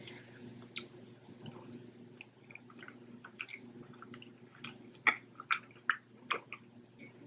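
Goat cheese pasta being chewed up close, with soft wet squishes and sharp clicking bites that grow louder and more frequent toward the end, with no talking.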